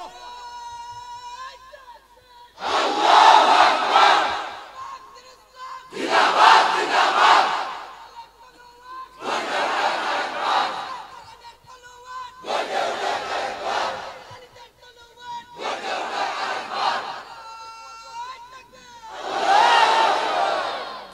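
A large crowd at an Islamic waz gathering shouts the takbir chant in six loud, separate bursts of massed voices, each lasting about two seconds. A lone leader's voice calls out in the short gaps between the responses.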